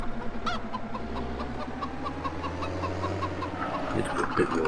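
Farm chickens cluck in repeated short bursts close by on a sheep farm, with a low engine-like rumble underneath and some background activity.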